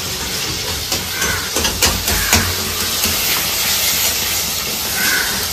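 Fish frying in oil in a home kitchen, a continuous loud hissing sizzle with scattered pops and crackles throughout.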